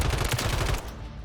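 A quick burst of fully automatic fire from a Ram 7 rifle in the Warzone video game firing range, a dense run of loud close shots that stops abruptly and leaves a short fading tail.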